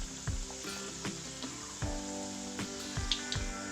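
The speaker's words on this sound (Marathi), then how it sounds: "गरम तेलामध्ये तळून घेऊया गॅस मोठा करायचा आहे" Strips of maida shenga snack dough deep-fry in hot oil over a high flame, giving close bubbling and sizzling. Repeated soft knocks and clinks of a utensil against the pan recur every half second or so, and nobody speaks.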